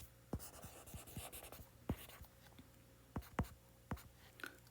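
Marker or chalk writing on a board during an electrostatics problem lecture, with a series of short, sharp strokes and taps at an irregular rhythm, fairly close and moderately quiet, with no talking.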